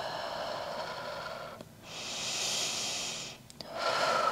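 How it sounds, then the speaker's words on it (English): Slow, audible breathing during a standing Pilates hamstring stretch, with two long airy exhales and inhales separated by short pauses, close and steady with no talking. "Continue to breathe."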